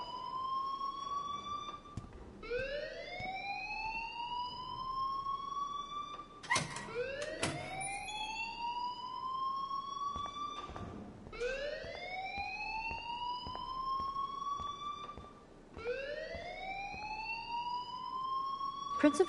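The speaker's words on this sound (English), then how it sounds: "please turn off that alarm since that's your job" Fire alarm in the video game Life is Strange, a loud rising electronic whoop repeating every few seconds in steady cycles, with faint voices talking underneath.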